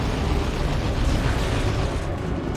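A Capillary Tower erupts from the ground in the Dawn of War 2 video game, a dense, continuous rumbling burst like an explosion or eruption, loud and close, holding steady for a couple of seconds with no voices.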